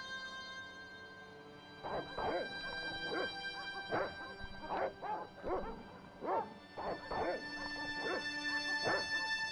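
Several dogs bark, yip and whimper in Broken Sword: Shadow of the Templars Reforged, bursts of barking repeating irregularly over a steady background hum, fairly close and moderately loud.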